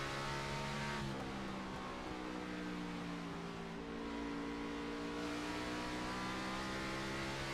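An on-board race car engine in a sim racing game at Bristol, a loud, steady drone with a small dip in pitch as the driver lifts off the throttle and taps the brake into a corner, then picks back up.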